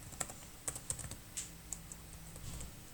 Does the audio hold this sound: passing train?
no